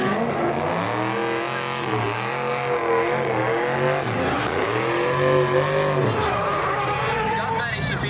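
A drift car enters a corner at a drifting competition, its engine revving and swooping in pitch over a steady roar, with a commentator talking throughout.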